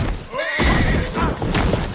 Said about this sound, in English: Why do I feel more sorry for my horse in Red Dead Redemption when I accidentally run us both off a